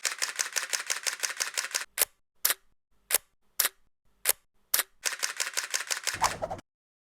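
A DSLR camera shooting a timelapse fires its shutter repeatedly: rapid bursts of crisp mechanical clicks, then several single spaced clicks, then another fast burst, close and loud with no voices.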